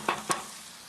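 Chopped onion, jalapeno and garlic hit hot bacon drippings in a pan, giving a soft steady sizzle with two brief clattering stirs near the start.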